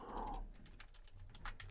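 Soft clicky keystrokes tap on a computer keyboard in quick irregular bursts, faint and close, after a brief hum at the start, with no speech.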